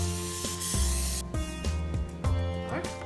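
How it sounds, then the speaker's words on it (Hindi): A butter spray greasing a baking tray inside an oven before mutton seekh kebabs go in: a short, bright hissing burst near the start, then softer spritzes over a steady tonal hum. "बटर स्प्रे करके इसे ग्रीस करना है हमें"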